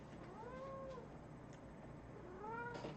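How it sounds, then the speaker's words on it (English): A cat meows twice, drawn-out rising and falling cries heard faintly and at a distance against a steady background hiss. "And then there's this cat."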